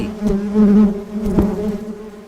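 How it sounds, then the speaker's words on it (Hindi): A cartoon housefly buzzes loudly and close, a steady droning whine that swells and wavers as it moves about, alone without talk. "लेकिन ये मक्खी बहुत परेशान कर रही है।"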